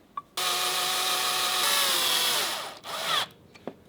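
A power drill drives short screws into a TCL palm vein smart lock mounted on a door, one long loud close whir with pitch shifting as the screw seats, then a brief second burst and a click.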